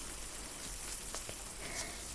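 Ear drops fizzing inside an ear during an ear-cleaning session in the rain, a soft, close, crackling hiss with a few tiny pops and clicks.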